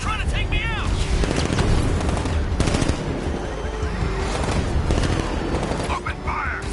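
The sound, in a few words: gunfire from a Batman video game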